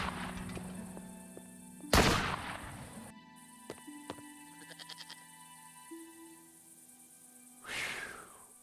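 Two sharp, loud gunshots from a shooter in the video game Broken Sword 5, the first striking hard near the start and the second landing a few seconds later, with quiet game ambience and soft music between them.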